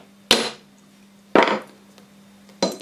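Three separate sharp taps of a hammer striking a coin punch through a coin resting on an MDF block, each a solid woody knock with a short decay, spaced about a second apart, nothing else audible.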